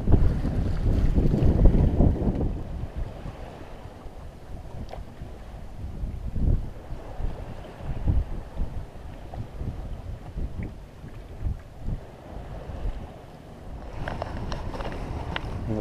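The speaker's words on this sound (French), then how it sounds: "Voilà la mer comme elle est le matin." Sea and wind heard aboard a sailboat off Sardinia in the morning, a steady buffeting wind roar with water sloshing against the hull, louder gusts at the start and end and no voices.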